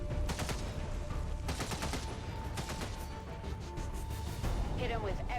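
Heavy gunfire in the strategy game XCOM 2: War of the Chosen, a loud, dense barrage of repeated shots and impacts filling the whole clip.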